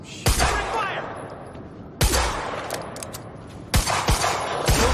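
Gunfire in the shooter game Quantum Break: three loud, sharp bursts of shots about every two seconds, each with rattling follow-up and a rumbling tail, over a busy combat backdrop with a voice briefly heard.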